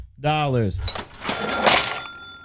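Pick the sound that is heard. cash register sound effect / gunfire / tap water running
cash register sound effect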